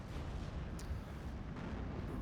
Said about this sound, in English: So rare to actually see rocket artillery being used in Steel Division 2.